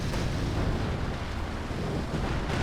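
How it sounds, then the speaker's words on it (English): Artillery bombardment in the video game Company of Heroes 2, British guns pounding a position on the Port of Hamburg map: a dense, continuous rumble of overlapping explosions and booms, loud and unbroken. "British artillery has just been pounding them"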